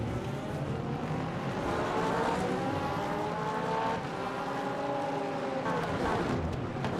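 A Porsche race car drives by as a steady, droning engine roar whose pitch rises and falls through gear changes, loud and sustained throughout.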